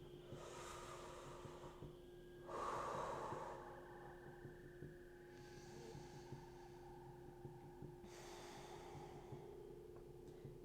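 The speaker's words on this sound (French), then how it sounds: "Toujours une inspire, une expire par le nez" Slow nasal breathing during a Kundalini kriya, with soft, airy inhales and exhales through the nose at intervals of a few seconds over a low steady hum. Each breath is faint and close.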